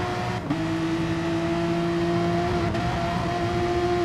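A TMR Blacklight Porsche race car roars through an online racing game championship round at St Croix, a loud, steady engine drone held at high revs with one brief dip early on, alone without talk.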